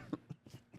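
A small, quiet cough comes in a few soft, brief bursts close by, light and faint with no talking.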